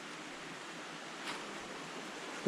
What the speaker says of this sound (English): brook behind there as well, flowing